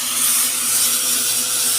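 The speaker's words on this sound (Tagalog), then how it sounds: "Grinder na yan." A power grinder working on wood outdoors gives a steady, loud, high-pitched whine and grinding hiss, continuous and close with no pauses.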